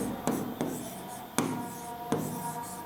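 Chalk or marker writing on a board during an English grammar class, with several sharp tapping strokes and scratchy scribbles spaced out in an irregular rhythm, close and clear with no talk.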